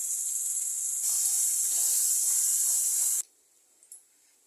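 Ground onion, green chili and cashew paste sizzles in a hot pan with a loud, steady hiss close by, cutting off abruptly near the end, followed by faint small sizzles.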